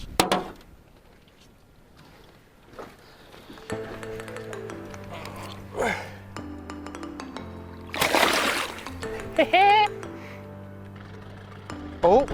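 A grey lake trout caught on a jig is slipped back into the water with a brief splash, surrounded by faint tonal sounds and people talking.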